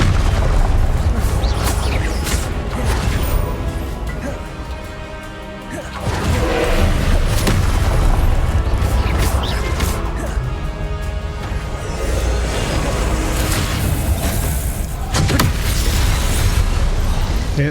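Hogwarts Legacy combat in which the Expelliarmus disarming spell fires, heard as heavy booming spell impacts and crashing bursts, loud and close, among dense repeated hits with a sharp blast near the middle.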